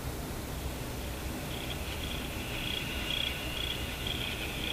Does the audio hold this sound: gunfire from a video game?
no